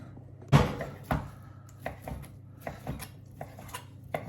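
A knife cuts ham into little squares on a board, giving a sharp first chop followed by a series of lighter, irregular taps and knocks, close and clear in a quiet kitchen.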